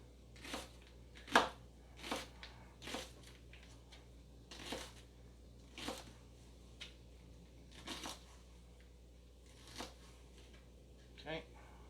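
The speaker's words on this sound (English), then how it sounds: "I kind of want to do a long slice, so I'm slicing them this way here" A knife slices vegetables lengthwise into long thin strips on a cutting board, giving about a dozen crisp, separate cuts in an uneven rhythm, close and fairly quiet.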